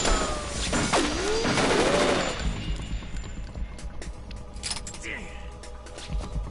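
Gunfire in Metal Gear Solid 2: Sons of Liberty, a burst of loud, close shots and sharp cracks early on, then fading to scattered impacts, with game voices talking over it.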